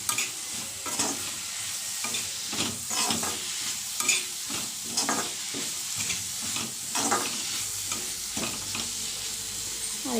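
Kashmiri red chili and coriander powder stirred into a hot frying pan, a spoon scraping in repeated strokes over a constant sizzle, close, with no voices.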